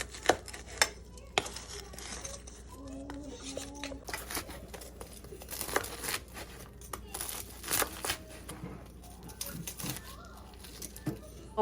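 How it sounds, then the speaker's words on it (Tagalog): A knife chops through crispy lechon kawali pork belly, a series of sharp crunchy cracks and taps close by, irregular over several seconds, with quiet background sounds between cuts. "atin na po siyang hihiwain. Pakinggan nyo po yung kanyang sounds."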